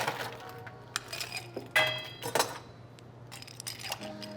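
Ice cubes clink and rattle against a glass while an absinthe cocktail is stirred, a series of bright, close, scattered chinks of varying strength.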